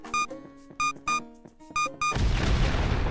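Bombs going off in the tree-felling game Trees Hate You: several short bright chiming tones ring in sequence, then a sustained broad roaring blast takes over at the end.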